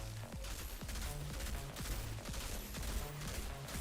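Rapid gunfire in the video game Outriders, a dense stream of sharp shots with clanking impacts over a busy game background, loud and continuous without talk.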